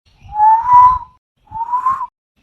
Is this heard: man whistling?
yes